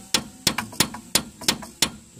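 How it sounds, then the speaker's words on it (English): Hammer tapping on brake caliper bolts to free up dirt and rust, six sharp metallic knocks at a steady, slightly uneven rhythm, close and fairly loud with no talking. "Take your hammer, kind of free up everything in case there's any dirt, rust in there"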